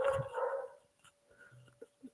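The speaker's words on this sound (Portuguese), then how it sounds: "O cachorro latindo." A dog at home barks loudly and close at first, then trails off into a few faint yips and whimpers.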